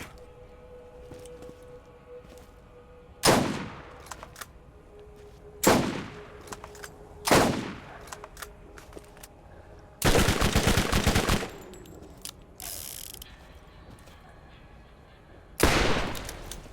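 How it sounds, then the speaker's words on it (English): Bursts of gunfire in Borderlands GOTY Edition, several sharp shots and short rapid volleys scattered across a quiet stretch, loud and near, with faint game ambience between them and no talk. "This gun is so awesome,"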